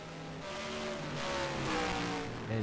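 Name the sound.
race car driving a timed lap at Willow Springs, racing video game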